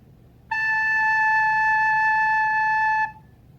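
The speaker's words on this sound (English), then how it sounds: "This is A. Your recorder should sound like this." A recorder sounds a single steady A note in a children's music lesson, a clear pure tone held for about two and a half seconds, close and alone over faint room hiss.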